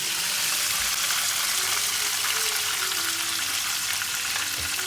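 Chicken sizzles steadily in a hot pan, a loud, continuous crackling fry with no pauses.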